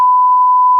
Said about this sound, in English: You understand why we bleeped that, right?